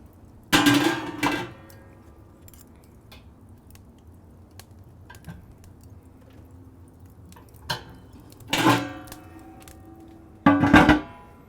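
Metal hooks clank against the metal rim of a Pit Barrel Cooker, three sharp clusters of clinks with a faint quiet tick between them, close and fairly loud.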